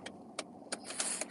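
A seatbelt being fastened inside a 1981 DeLorean, a short series of close metallic clicks and rattles, four or five sharp ticks in quick succession over a low cabin hum.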